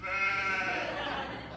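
A sheep bleats in one long, wavering cry that fills the moment, close and loud, with some voiced quality that sounds almost human.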